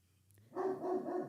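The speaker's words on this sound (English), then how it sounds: "sorry, the dogs are barking" A single dog barks once in a muffled, somewhat distant room, giving a short throaty woof that stretches into a brief wavering tail after a moment of near quiet.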